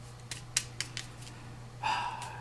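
Gloomhaven game cards being shuffled, a few sharp papery snaps and riffles spaced irregularly, then a brief burst of flicking cards, close and fairly clear against a low steady hum.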